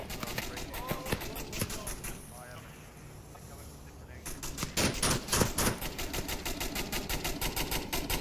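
Fully automatic machine gun fire in the Onward virtual reality shooter: dense rapid bursts, with a quieter stretch in the middle before the firing resumes loud and sustained, under faint voices.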